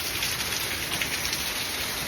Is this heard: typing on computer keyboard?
no